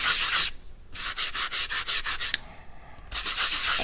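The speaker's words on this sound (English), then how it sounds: "So you sand it to your heart's content." Sandpaper rubs briskly across a cardmaking card panel, loud close scratchy strokes in a quick regular rhythm, with a short pause midway before the scraping starts again.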